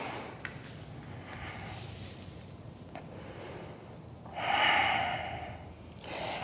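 A yoga student draws in a slow, audible breath during a continuous power yoga flow, a soft airy inhale that swells briefly and fades, close and alone with no talking.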